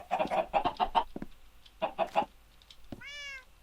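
A video game chicken clucks in a quick run of rhythmic, close bursts, pauses, clucks again, then lets out a rising, drawn-out squawk at the end.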